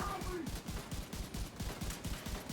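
Rapid bursts of gunfire in The Division 2 video game, a steady run of close, repeated shots rattling through the whole stretch, with a voice speaking over the firing.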